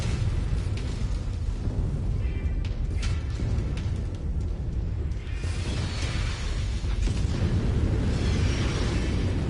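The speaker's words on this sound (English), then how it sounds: "we've even got artillery fire" Dense, continuous rumbling booms of artillery fire and explosions in the mech combat game MechWarrior 5: Mercenaries, loud and sustained with overlapping blasts and whooshes throughout.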